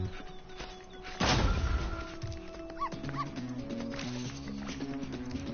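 A dog barks and whimpers in a Spyro 3 video game, a loud burst of yips rising over steady game music and effects, then fading back under the music.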